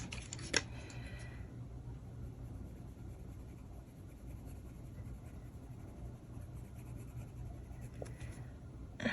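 A colored pencil moving across a coloring-book page, heard as a faint, soft scratching that runs steadily in a quiet room, with an occasional small tap.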